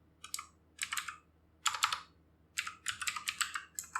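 Close bursts of clicky keystrokes on a computer keyboard, typed in several quick runs with short pauses between them and a quiet background behind.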